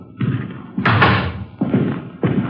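Front door of an apartment building opening in a Dragnet radio drama, with a series of wooden thumps and rattles followed by heavier knocking bumps, close and solid, with no talk over them.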